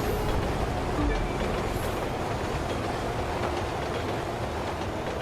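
Train rumbling along in The Crew 2 video game, a steady continuous roar with rolling low-end clatter throughout, under faint game sounds.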